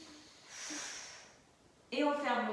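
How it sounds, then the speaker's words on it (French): A single breath pushed out through one nostril during a children's yoga breathing exercise, a soft airy exhale heard near and clearly, with quiet voices before it. "Et l'autre narine, on souffle."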